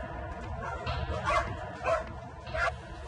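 Many puppies and dogs packed into a cramped enclosure, yipping and whimpering barks rising every half second or so over a murmuring crowded background.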